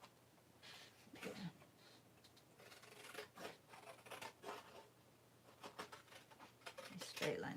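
Scissors snip a straight line through paper in a series of faint, crisp cuts close by in a quiet room.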